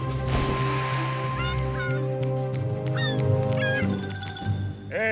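Cartoon seagulls from a Thomas and Friends episode squawk and cry in several short rising calls over a busy background of music and effects, fairly close and loud.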